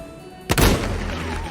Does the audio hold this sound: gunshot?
yes